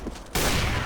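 Loud burst of gunfire in the video game CS:GO, a sharp onset that turns into a dense, sustained barrage, close and dominating the sound.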